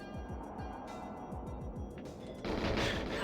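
Rapid gunfire from a gun in the N64 game GoldenEye 007 rattles out in quick repeated bursts of sharp shots, followed by a louder blast of noise near the end.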